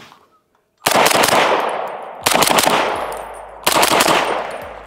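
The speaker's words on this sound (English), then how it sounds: "we are just shooting the Rattler LT with the brand new SIG SLX 762 suppressor" Three loud, booming shots from a SIG Rattler LT rifle fitted with a SIG SLX 7.62 suppressor at an outdoor range, each a sharp blast with a long ringing decay, spaced about a second and a half apart.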